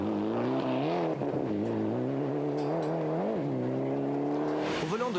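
Rally race cars, with a Citroën Saxo pulling ahead, engine note droning and rising and falling steadily through gear changes, with a sharper rev near the end.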